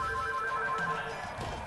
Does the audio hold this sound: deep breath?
no